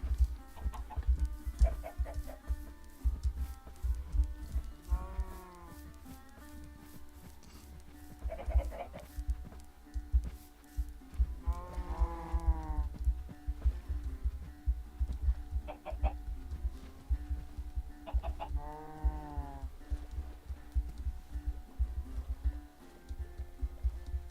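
Several Minecraft chickens cluck in repeated short bursts over a long stretch, mixed with other farm-animal bleats and a continuous low game backdrop, moderately loud and spread across the scene.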